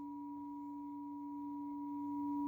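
Steady pure electronic tones play from a radionic scalar energy CD, a low hum and a higher clear tone sustained together quietly and evenly, growing slightly louder toward the end.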